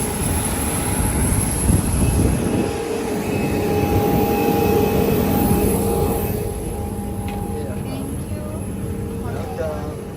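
Inside an airliner at Dubai airport, terminal 2, with passengers seated: a steady engine and cabin hum, louder early and easing later, under someone talking throughout.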